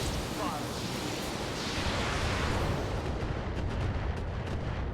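Heavy artillery fire in the Battletech mech combat game makes a dense, continuous roar of rumbling blasts, with sharper bursts near the end.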